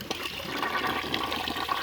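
A household toilet flushing, steady rushing water swirling down the bowl for the whole stretch, close and fairly loud with no voices.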